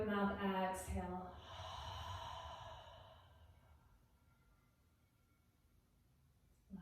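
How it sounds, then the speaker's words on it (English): A long open-mouth exhale, a yoga cleansing breath, begins with a soft voiced sigh and trails off into a steady breathy rush that fades to quiet, close and fairly faint. "Deep inhale. Open mouth, exhale."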